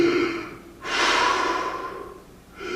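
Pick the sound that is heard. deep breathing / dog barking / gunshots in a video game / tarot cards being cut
deep breathing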